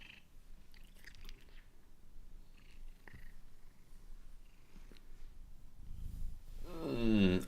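A cat settling onto a bed purrs softly and close, a low continuous rumble with faint rustling, ending in a louder burst of vocal noise.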